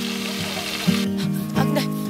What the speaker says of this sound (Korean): 지글지글 구워지는 저 모습만 봐도 아이고 그냥 입에 침이 꼴딱 넘어가네요